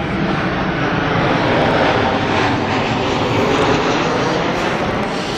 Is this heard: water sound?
no